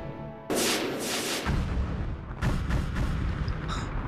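Heavy artillery fire in the strategy game Iron Grip: Marauders, a loud booming blast followed by rolling, crackling rumble and a second burst of impacts, with no talk over it.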